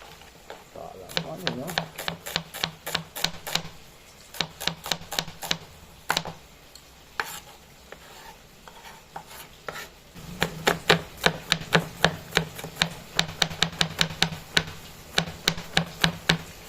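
Onion and garlic being chopped on a board with a knife: bursts of quick, crisp, evenly spaced strikes with brief pauses between runs, close and fairly loud.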